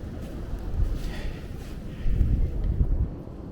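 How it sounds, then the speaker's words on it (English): Strong wind during a blizzard on a Brooklyn street, roaring and buffeting against the microphone in rough gusts, with a louder surge partway through and no talking. "We're gonna go into the wind here."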